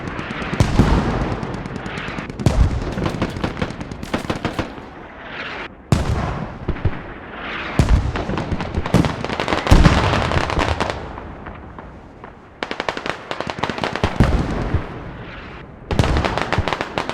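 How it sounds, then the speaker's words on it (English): Heavy artillery and explosions crash again and again in a Squad competitive match on the Chora map, sharp loud booms with rumbling tails, some near and some distant, broken by short quieter gaps. "Enemy artillery."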